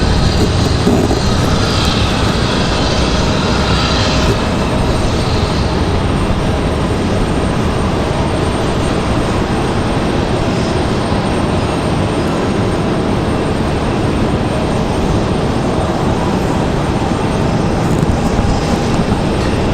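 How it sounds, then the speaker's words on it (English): An American A319 or A320 airliner departs Raleigh-Durham airport with a steady, loud roar of jet engines. The broadband rumble holds level for about twenty seconds with no voices over it. "Another American A319, A320 on the way out"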